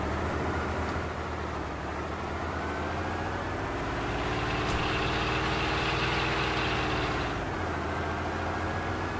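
A car engine idling in the video game DayZ, a steady, close, droning rumble that swells slightly in pitch partway through and holds alone without talk.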